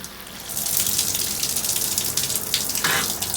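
Hot water running from a detached RV shower head held close to the drain during winterizing, a steady, close hissing gush that continues throughout.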